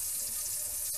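Hot water running from a kitchen sink tap into the drain during a garbage disposal replacement, a steady close hiss and splash that continues without a break.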